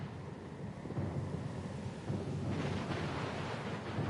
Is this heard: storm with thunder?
yes